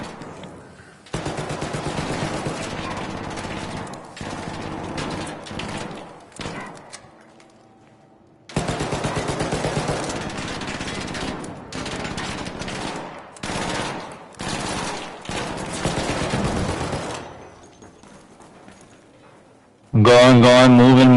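Bursts of automatic gunfire from the video game Arc Raiders, long sustained volleys broken by short pauses, loud and close, with players talking over the shooting and a loud voice at the very end.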